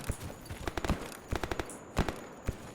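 Gunfire aimed at the player in the game Escape From Pripyat, irregular sharp cracks in small clusters and single shots at moderate distance, with no voices.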